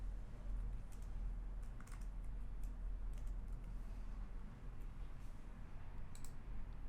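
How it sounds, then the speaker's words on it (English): Fingers type names on a computer keyboard, a quiet, steady run of soft key clicks with no talk over it. "I'll just go ahead and type in a couple of names."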